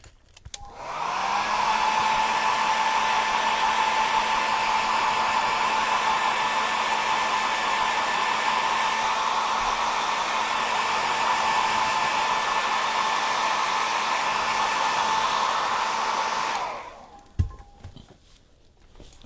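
Hair dryer blowing steadily on a distressed book nook cabinet, a loud, even whir that holds for about fifteen seconds before clicking off, with a few small knocks after it stops.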